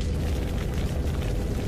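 A deep, sustained rumbling blast depicting the Siberian asteroid explosion that torched millions of trees, a loud continuous low roar with no distinct onset, heard alone.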